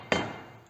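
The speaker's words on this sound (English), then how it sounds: "just try and hammer it down into there, into that small gap" One sharp, close hammer strike on a Studebaker's rear body trim as it is driven into a small gap, with a short ringing decay afterward.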